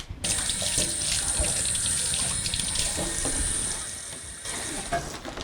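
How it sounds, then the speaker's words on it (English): Tap water runs steadily into a sink during a clinical hand wash before scrubbing, a continuous close splashing hiss that eases slightly near the end. "so just get moist, and again, do a general hand wash"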